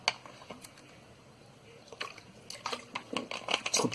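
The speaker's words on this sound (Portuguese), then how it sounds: "Desculpa, tomando um pouco de água aqui." A person drinks some water, with faint gulps and small liquid sounds that grow closer and louder toward the end after a quiet stretch.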